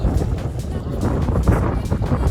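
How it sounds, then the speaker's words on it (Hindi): Strong wind buffeting a microphone on a high hilltop, a loud continuous roaring rumble with gusty surges throughout and no clear speech. "हम टॉप पर हैं और हवा चल रही है बहुत तेज"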